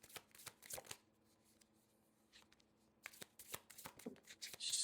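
Tarot cards riffle and slap together in quick, soft bursts close by, with a pause in the middle before the shuffling resumes more busily.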